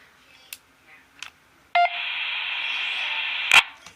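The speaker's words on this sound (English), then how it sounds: "as you can hear up here on this speaker, you hear it hit the repeater" A Tidradio TD-H6 handheld radio's transmission hitting the repeater, heard through a speaker mic: a short beep, then a steady electronic tone of about two seconds ending in a squelch burst, with a few faint clicks around it.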